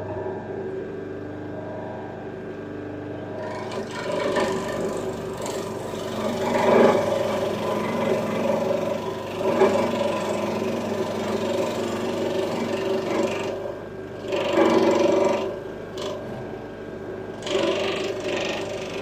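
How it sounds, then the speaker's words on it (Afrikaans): A knife works through a piece of biltong, a dried meat, in a long run of dry rasping, sawing strokes that swell and fade in uneven surges, close and fairly loud, with no talking. "biltongkie kerf."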